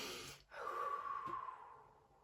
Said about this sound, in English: the first thing I would say to do is to take a breath